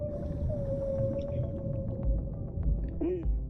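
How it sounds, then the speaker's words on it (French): A baby whale inside an undersea cave in the video game Dave the Diver calls with a long, sustained tonal moan that rises at the end, over a deep underwater rumble. A voice also speaks faintly underneath. "Ouah, il y a un bébé baleine là-dedans."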